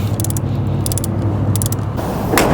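A wrench ratchets in quick clicking bursts while tightening the negative battery cable nut onto the terminal of a 2017 Lexus RX, three short runs of clicks over a steady low hum, with a rustle at the end.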